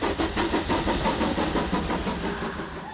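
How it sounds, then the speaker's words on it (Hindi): A train engine rumbles steadily at railway platform number 1, a dense, continuous mechanical drone with a throbbing, rhythmic pulse, fairly loud and unbroken for the whole stretch. "आवाज आ रही है, इंजन का आवाज आ रहा है, प्लेटफॉर्म नंबर 1 से आ रहा है"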